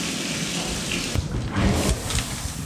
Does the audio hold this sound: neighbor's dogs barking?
no